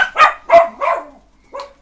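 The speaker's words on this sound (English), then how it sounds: "dog's barking" A dog barks four times in fairly quick succession, then once more after a short pause, sharp and close by in an otherwise quiet room.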